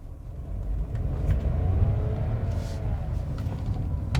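A Volkswagen T-Cross Comfortline 200 TSI pulls away hard from a standstill on a downhill, its engine note rising in a steady, loud, continuous rumble from inside the cabin.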